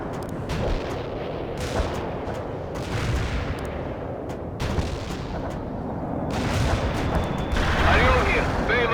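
A cluster ordnance strike bursts in a World in Conflict battle, a dense rolling barrage of many overlapping explosions and crackling booms that keeps up for several seconds, loud and continuous, with radio-style voices talking over it.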